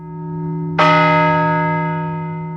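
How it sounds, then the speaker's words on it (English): The historic bell atop the Madison County Courthouse, restored after five decades of silence, strikes once loud and clear, then rings on in a long, rich, slowly fading tone over a steady low hum. "A bell atop the Madison County Courthouse is ringing again after more than 5 decades of silence."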